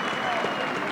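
Basketball crowd at a girls' high school game applauds steadily after a three-pointer, a dense wash of clapping heard from a distance.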